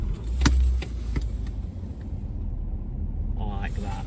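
A car engine rumbling low and steady at close range as the car creeps a short way forward, with a brief voice near the end.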